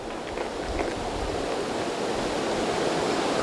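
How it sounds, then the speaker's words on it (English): Ocean waves wash in a steady, continuous roar of surf, even and unbroken throughout, with no voices. "the sound of the ocean faded away"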